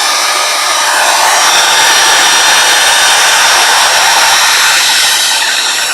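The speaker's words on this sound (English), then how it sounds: "my heating tool." Embossing heat tool used for card making, a loud steady blowing whir like a hair dryer, running close and continuously without pause.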